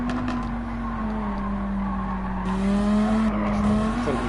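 Race car tires squeal steadily and loudly under hard braking in Gran Turismo 7, a long sustained screech over a droning engine, with no one talking.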